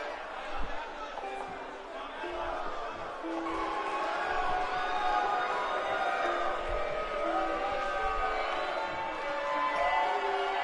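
Crowd noise fills an arena at a tag team wrestling tournament, a steady murmur of cheering and chatter held loud throughout, with occasional thuds underneath and no distinct words.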